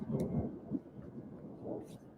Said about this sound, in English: Oh, I love the sound of thunder.